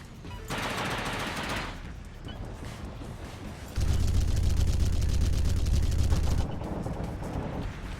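Gunfire in the Angels Fall First video game crackles in sustained automatic bursts, with a heavier booming stretch in the middle, dense and fairly loud, with no talking.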